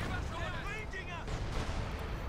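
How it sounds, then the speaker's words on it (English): British artillery fire pounding a church in a war video game, dull distant booms and rumbling impacts under a continuous battle din, with shouting voices in the mix. "Church being hammered there by British artillery."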